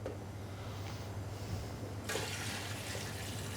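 Cold water runs into a stock pot over raw chicken for a white poultry stock, a steady rushing pour that grows brighter and louder partway through, with no talk.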